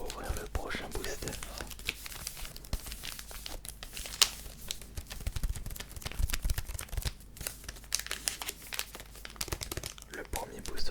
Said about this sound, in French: on va ouvrir le prochain booster